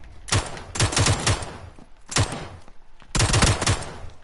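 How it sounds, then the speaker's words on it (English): Bursts of video game gunfire from hip firing come in three loud, rapid volleys with short pauses between them. "I'm good at hip firing."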